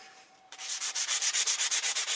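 Sandpaper rubs across a maple-leaf-shaped metal leaf of unknown metal. After a quiet half second, rapid, even back-and-forth scraping strokes begin close by, steady and loud.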